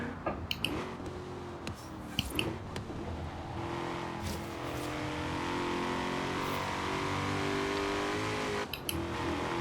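The engine of a Ford Mustang Shelby GT350R in Forza Horizon 3 drones and revs steadily in a long, low gear, with a few brief clicks and bumps over the continuous tone.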